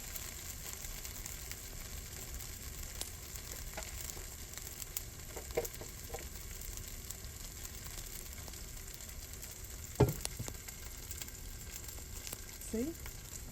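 Fish sizzles steadily in a hot pan for Guyanese stew fish, a constant frying hiss with a few soft clinks and scrapes of utensils now and then.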